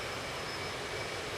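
An airplane engine during landing in a flight video game, a steady, loud jet-like roar that holds without change for a short moment, with no voices.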